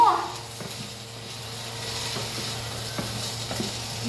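Food fries in a pan under steady, moderate sizzling while it is stirred, with scattered clicks and scrapes of the utensil against the pan.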